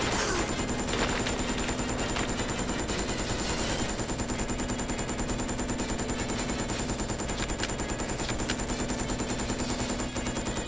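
Sustained rapid gunfire in the game Resident Evil Code Veronica X, a dense, continuous rattle of shots that fills the whole stretch at a steady level with no pauses.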